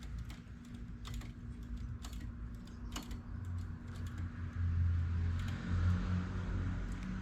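Carriage of a knitting machine sliding across its needle bed while working thick yarn, a steady mechanical rasping run with light clicks, close and continuous, growing louder toward the end.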